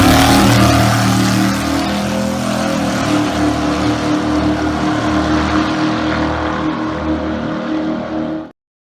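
A dragster's engine roars loud and close, a thick, steady revving drone that holds its power for about eight seconds and then cuts off abruptly into silence.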